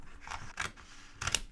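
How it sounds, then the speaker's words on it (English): Scissors snipping through a journal page, three short crisp cuts spaced unevenly, quiet and close with a soft papery rustle between them. "Now I need to cut the page once again"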